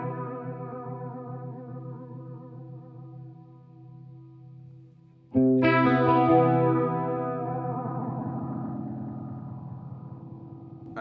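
Guitar through a chorus pedal in user control mode, a sustained shimmering wobbling chord fading out, then a fresh strummed chord struck with thick warbling modulation and a long ringing decay, with no voices.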